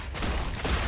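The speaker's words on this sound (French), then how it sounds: "Elle déchire la mitrailleuse." Machine gun fire in the video game StarRupture: a dense, loud, continuous burst of rapid shots filling a brief moment, with no talking.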